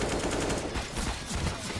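A Mac-10 fires in Counter-Strike on the Train map during a FaZe vs Fnatic match, a rapid rattling automatic burst repeating close and loud with little pause.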